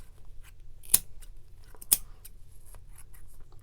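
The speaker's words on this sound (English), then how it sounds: "you are going to cut all the way along this line" Scissors snip through wound yarn while a pom pom is made, two crisp distinct cuts about a second apart, close and clear over quiet rustling.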